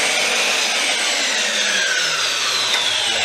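A saw cutting through wooden decking boards for window boxes, a steady, loud, continuous rasping that stays even throughout with no voices.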